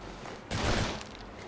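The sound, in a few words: submachine gun fire in Urban Chaos video game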